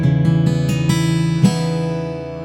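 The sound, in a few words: guitar strum with unmuted outer E strings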